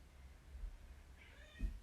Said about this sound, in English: There's a cat.